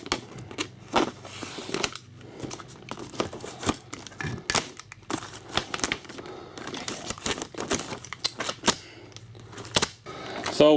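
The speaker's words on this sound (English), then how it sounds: "We're going to cut a hole in our vapor barrier." A blade slicing and tearing through plastic vapor barrier sheeting on a garage wall, with rapid crinkling, snapping and scraping bursts in an irregular rhythm, close up and fairly loud throughout.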